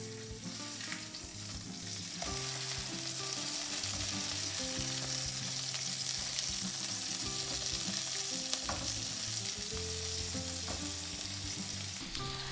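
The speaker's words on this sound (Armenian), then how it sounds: "հիմա սպասեմ թող լավ տապակվեն կոտլետները" Chicken burger patties fry in a pan at home, giving a steady, loud sizzle with crackling pops and a few faint clinks of cookware throughout, and no one talks.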